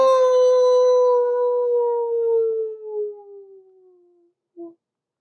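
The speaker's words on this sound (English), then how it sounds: "The wolves are singing." A single long wolf howl, clear and sustained, slowly falling in pitch and fading out, followed by a brief faint answering note after a short silence.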